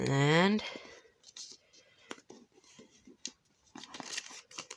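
Paper is folded by hand, edges pressed to the middle in a crafting tutorial, with soft crinkles, creases and clicks scattered across a few seconds after a brief spoken word at the start.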